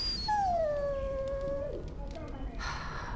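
A dog whimpers in the Dragon Age video game, one long high whine that slowly falls in pitch and then fades, with faint rustling and a little soft noise near the end.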